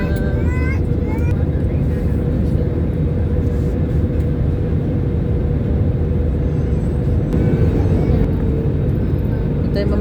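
A passenger airplane descends to land in Manila, its cabin filled with a loud, constant low engine rumble and roar that holds steady throughout without pause.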